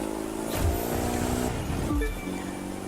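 Modified Mitsubishi Eclipse in The Crew 2 racing, engine droning and revving steadily with shifting pitch, a brief rise and gear change partway through, loud and close.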